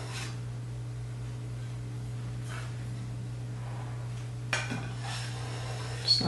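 A metal bench scraper scraped and tapped against a bowl while frosting a flag ruffle cake, a few light scraping strokes and clinks over a steady low hum, no voices.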